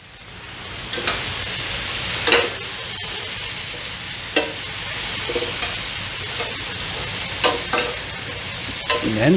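Onions sauteing in olive oil in a pan, a continuous close sizzle broken by repeated scraping and stirring strokes, with no talking.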